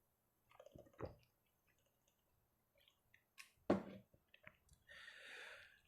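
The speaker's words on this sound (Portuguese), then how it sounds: "eu vou tomar um pouquinho de água" Someone takes a little water during a Portuguese class, with a few soft, brief sips and swallows in a quiet room, separated by short silences and followed by a faint rustle near the end.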